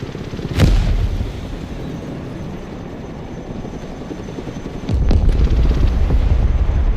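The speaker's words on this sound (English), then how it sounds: "No, not another bomb." Explosions rumble through a Broken Arrow battle, with a sharp blast near the start and another heavy, booming detonation near the end over a continuous low roar of combat.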